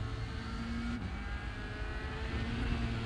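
An F3 open-wheel race car accelerates on the Virginia International Raceway circuit in iRacing. The engine holds a steady, sustained drone and shifts once partway through.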